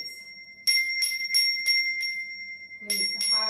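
A bell struck repeatedly, five ringing hits at a steady pace followed by two more, each with a bright sustained resonant tone and a clear metallic shimmer, close and fairly loud.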